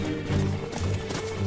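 Horse hooves clip-clop at a steady riding pace, a muffled rhythmic thudding under layered ambient sound and a low musical drone, with no clear speech.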